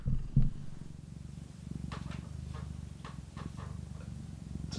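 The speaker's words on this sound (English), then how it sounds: "Sorry, are you getting purring on mic?" A cat purrs right beside the microphone in a low, steady rhythmic rumble, with a couple of soft bumps near the start and faint clicks above the purr.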